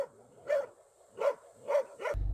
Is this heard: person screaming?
no